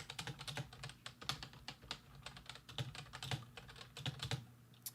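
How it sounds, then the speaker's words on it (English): Rapid, uneven bursts of key clicks come from a computer keyboard, typed nearby at steady speed for several seconds with no talking. "I realize now that I have been typing a lot"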